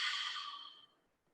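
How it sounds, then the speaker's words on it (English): Loud, breathy open-mouth exhale during a yoga breathing exercise, a single noisy sigh that starts strong and fades away over about a second, with no talking. "let a nice noisy breath"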